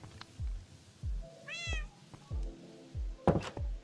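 Video game cat meows repeatedly alongside regular low thunks, with one clear, bright meow in the middle and a sharper knock near the end, all close and without talk.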